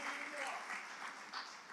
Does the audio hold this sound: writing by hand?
no